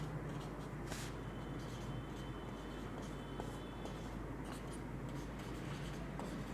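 Pen writing out a mathematical formula, faint scratchy strokes at irregular intervals beneath a steady, loud low hum.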